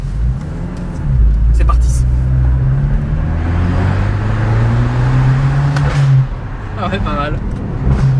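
A car engine revs up steadily with upshifts held to exactly 4000 rpm, the rising drone loud and close for several seconds before a shift and a fresh pull; people talk briefly over it.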